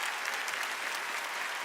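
Audience at The Game Awards 2022 cheering and applauding, a dense continuous wash of clapping and crowd noise, steady and fairly loud throughout.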